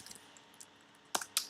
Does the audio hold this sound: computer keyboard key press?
yes